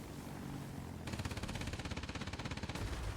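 Rapid aircraft machine-gun fire in World of Warplanes, a fast, even rattle of shots lasting nearly two seconds over steady engine drone, fairly faint.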